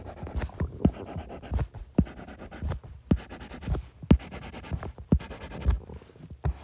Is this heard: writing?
yes